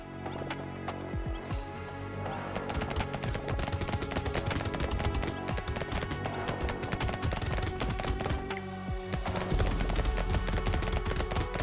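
Continuous rapid gunfire from an SMG and laser gun in the arcade shooter Brotato, a dense loud stream of overlapping shots and game effects with no pauses.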